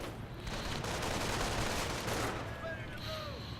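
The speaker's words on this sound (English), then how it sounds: "Oh, some more mortars coming in." Dense, continuous battle noise from a real-time strategy video game, mortar impacts and rolling gunfire blending into a steady, heavy wash with faint higher tones near the end.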